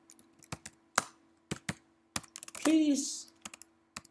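Keys clacking on a computer keyboard as text is typed, crisp separate strokes in an uneven rhythm, close and clear, with a brief voice breaking in partway through.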